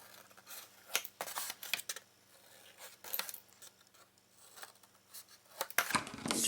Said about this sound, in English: So we will trim them on an angle, leaving a little bit paper